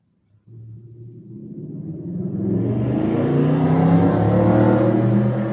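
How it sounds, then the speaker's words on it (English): A car passing on a noisy street, starting as a low engine rumble that swells steadily louder and brighter as it nears, with no talk over it. "Noisy street today."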